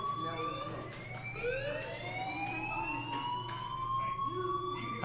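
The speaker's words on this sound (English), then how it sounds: "Hey, do you hear that fire alarm?" A fire alarm wails inside the video game Life is Strange, rising tones sweeping upward and repeating over a low steady hum, moderately loud and heard alone without talk.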